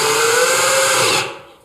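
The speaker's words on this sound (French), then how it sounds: "Donc là, j'attaque concrètement à visser." A power screwdriver drives a screw into a cupboard upright, a steady whirring motor tone holding for about a second before cutting off and fading.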